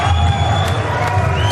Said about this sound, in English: The crowd in Cork going absolutely wild for their man Ian Gary.